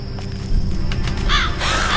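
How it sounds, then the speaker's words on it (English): A crow caws twice in a gloomy, decaying castle courtyard at nightfall, harsh rasping calls near the end over a low rumbling ambience, with no talking. "It's just a crow."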